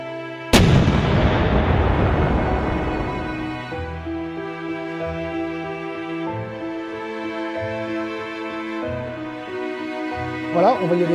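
A single loud, close hammer blow strikes a seized part on an old Mercedes van and rings out, decaying over several seconds before faint light knocks.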